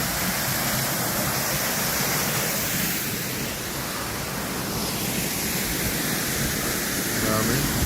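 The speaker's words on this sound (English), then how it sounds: "Great waterfall, man." A waterfall in Alaska gives a broad, steady roar of rushing water, constant and fairly close throughout, with voices faintly under it.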